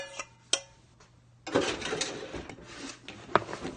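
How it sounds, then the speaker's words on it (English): A wooden spoon stirs vegan pumpkin waffle batter in a bowl, starting with a few sharp taps and then settling into close, continuous scraping and rubbing strokes. "And we mix this all together until it's all combined."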